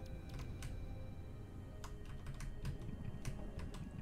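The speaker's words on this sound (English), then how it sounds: "So I use the keyboard" Scattered keystrokes on a computer keyboard tap out quietly in irregular bursts, light clicks spaced unevenly under a low background hum.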